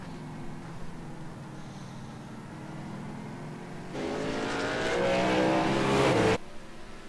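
Race cars in a sim racing game drone along at a low level, then one engine swells into a louder, rising whine for a couple of seconds before dropping away abruptly.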